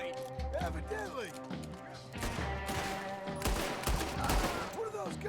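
Gunfire from a Red Dead Redemption 2 shootout, a busy stretch of repeated shots and crashing impacts that thickens toward the end, mixed under game voices and music.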